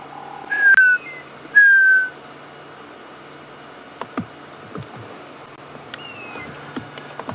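A bird calls near a marula tree on a safari drive at Djuma Game Reserve, giving two loud, clear whistled notes early on, then fainter repeats farther off as it flies away, over a low vehicle hum.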